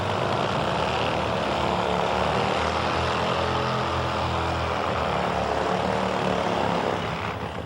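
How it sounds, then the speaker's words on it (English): Kevin Boyer's Top Fuel drag motorcycle roars through a burnout, a loud, sustained, dense engine blare with a gritty broadband rush that holds steady throughout and eases slightly at the very end. "Let's listen in for the burnout from Kevin Boyer on his Top Fuel ride."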